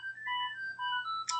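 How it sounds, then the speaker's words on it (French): A phone ringtone plays a bright melodic tune of rising and falling electronic notes, loud and close, alone with no talking. "Désolée pour le téléphone."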